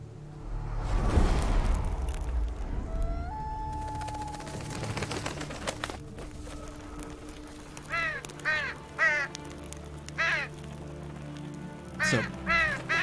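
Crows caw in The Witcher 3, several harsh hoarse calls in quick clusters over a steady game ambience, coming after an opening rumble and scattered clicks and thuds.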